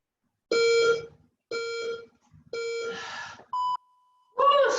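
Electronic workout interval timer beeping during a team Tabata session: three long loud harmonic beeps at a steady rhythm, then a short higher beep and a pure tone, with a final beep starting at the end, no talk.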